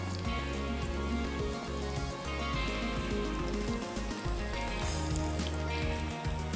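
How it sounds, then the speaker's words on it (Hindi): Onions sizzle steadily in hot oil in a pan for a Pakistani daal kofta, a dense, loud, continuous crackling hiss with no one talking. "प्याज को थोड़ा सा इस तरीके खोल लेंगे तो ज़रा जल्दी जो है वो फ्राई हो जाएगी"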